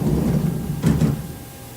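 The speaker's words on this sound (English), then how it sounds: "I will close my doors" Enclosure doors of a Haas VF1 CNC mill sliding shut, a low rumbling slide that ends in a pair of quick thuds, set against a steady machine hum.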